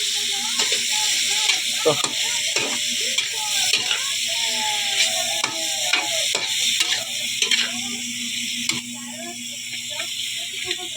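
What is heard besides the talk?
chayote being sautéed and stirred, sizzling in a pan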